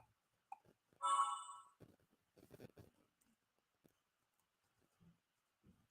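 A phone plays a short, bright chiming notification tone once, clearly and alone, followed by quiet handling noises and light clicks.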